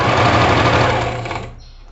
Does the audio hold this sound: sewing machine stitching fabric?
yes